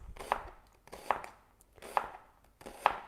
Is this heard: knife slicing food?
yes